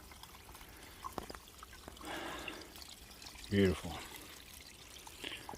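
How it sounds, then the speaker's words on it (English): Spring water flowing out of a pipe on an Appalachian Trail mountainside, a soft steady trickle and pour under outdoor ambience, with a short spoken word near the middle. "Water's just flowing right out of the mountain. Somebody has piped it to make it easy to get to."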